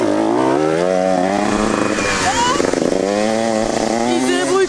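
A small motorcycle ridden by a young rider on a straight and into a bend revs hard through first, second and third gears, loud and close, with the pitch climbing and dropping at each shift and a voice talking over it.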